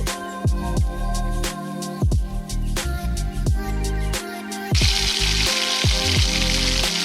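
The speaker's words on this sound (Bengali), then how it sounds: "চিকেন স্ট্রিপগুলো সয়া সস, নুন এবং গোলমরিচ দিয়ে একটু ভেজে নেব।" Chicken strips fry in a pan with soy sauce, salt and pepper, giving a steady sizzle with clicking and clattering from stirring, growing brighter and hissier toward the end; no one speaks.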